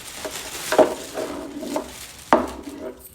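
A set of three cooking pots being handled, with a couple of distinct metallic clanks and softer knocks and scrapes between them, close up and not under talk.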